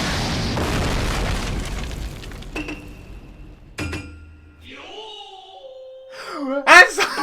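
An animated volcano blown apart by an explosion: a loud, broad rumbling blast that fades, followed by scattered clinks, sharp hits and rising synthetic tones ending in a bright burst.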